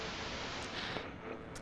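Hissing radio static with digital distortion in the horror game Static Dread: The Lighthouse, a steady, fairly quiet wash of noise with faint flickers, no voices.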